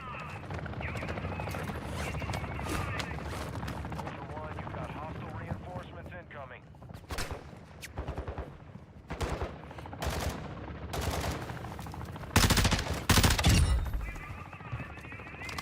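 Gunfire from a weapon in Call of Duty DMZ, with sharp bursts scattered across a busy game soundscape and a loud cluster of shots near the end.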